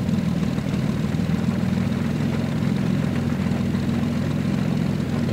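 A SIAI-Marchetti SF-260 piston engine running cold in X-Plane 11, a steady, loud, even propeller drone with no pauses.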